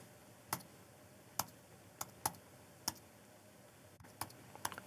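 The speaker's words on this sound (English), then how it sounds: "I'm having to type with my keyboard off to the side." Sparse keystrokes on a computer keyboard set off to one side, about a dozen crisp, isolated clicks at uneven intervals in a quiet room, a quick double tap near the end.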